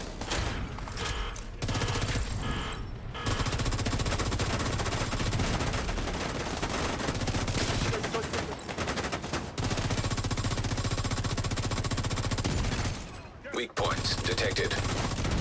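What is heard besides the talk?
gunfire in a video game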